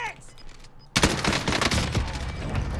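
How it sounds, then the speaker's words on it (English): Heavy gunfire rings out in Call of Duty: Warzone, a dense fusillade of rapid automatic bursts that breaks out suddenly after a quieter stretch and carries on loud and unbroken to the end. "we still got some more shooting"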